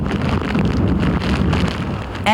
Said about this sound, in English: Winds gusting up to 80 miles an hour.